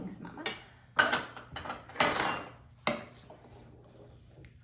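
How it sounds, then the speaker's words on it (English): A spoon mixing baking ingredients for banana nut muffins in a bowl, with bursts of scraping and clinking strokes separated by short pauses, close and clear. "Now just mix it all together with my new spoon here"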